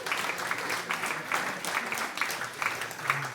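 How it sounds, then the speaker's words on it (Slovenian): Audience clapping at an indoor science event at Triglav Lab, a steady, even wash of applause with no voices over it. "Jaz mislim, da si lahko zdaj zaploskate."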